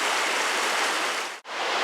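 A mountain stream in the Vercors rushes steadily as a broad, continuous hiss of flowing water, close and loud, with a brief dropout near the end and no voices.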